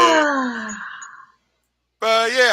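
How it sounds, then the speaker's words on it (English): A movie character lets out a long, voiced yawn that rises and trails off over about a second, followed by a pause of silence and then another voiced sound. "look at that yawn"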